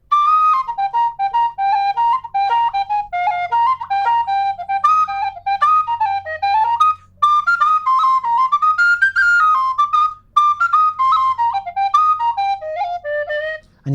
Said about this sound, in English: you can hear the B-flat whistle carrying it really easily